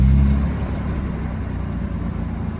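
A Toyota Land Cruiser Prado 120 engine fires up with a loud low burst at the start, then settles into a steady, rumbling idle close by.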